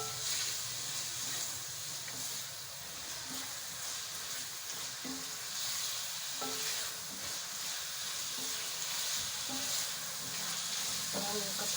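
Cubed onions and capsicum fry for chicken jalfrezi, a dense continuous sizzle and hiss with occasional soft stirring knocks, steady throughout with no talking.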